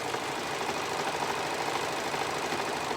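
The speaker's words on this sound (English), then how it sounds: "I'm going to sew down the side through that hourglass" A sewing machine runs steadily, stitching a seam down the side of folded fabric through an hourglass-shaped center, its continuous whirring hum carrying on unbroken with no talking.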